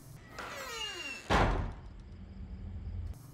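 A door in an old house swings shut with a creak, then a single heavy thud, followed by a faint rattle and click of the lock.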